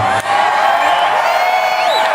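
A concert-hall audience screams and cheers at a speech, a loud sustained wash of high-pitched shrieks and whoops from the crowd.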